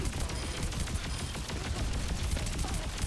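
Torbjörn and Bastion turrets in Overwatch 2 spray rapid, dense gunfire, a continuous crackling barrage with chattering bursts throughout.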